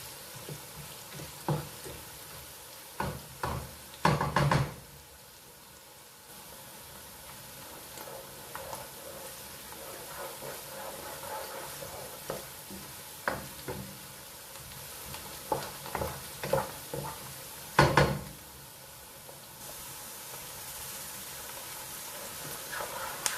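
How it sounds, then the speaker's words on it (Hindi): Onions sizzle quietly in a pan, with a spoon scraping and clattering against the metal at irregular intervals as they are stirred, a few louder clanks standing out above the low steady frying. "वक्फे वक्फे से आपने प्याज को हिलाते रहना है।"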